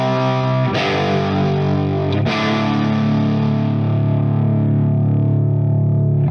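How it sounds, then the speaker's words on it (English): An overdriven guitar chord ringing through an 18-watt tube amp, loud and sustained with a fizzy, swirling layer riding over the top, the chord restruck twice before it decays. "That is the swirl that they talk about in an 18-watt amp."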